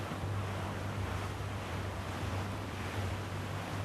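Ocean waves roll and wash continuously in the Assassin's Creed 4 Black Flag video game, a dense, steady surf with wind noise and a low rumble underneath, no voices.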